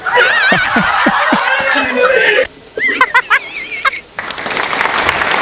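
A crowd at a political election talk breaks into scattered clapping and laughter, then a pause with a few sharp claps before noisy applause resumes.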